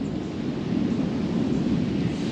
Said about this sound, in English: It's thundering and lightning right now